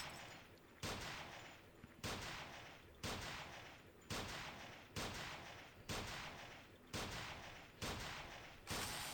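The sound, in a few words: gunfire at the shooting yard in Sift Heads World video game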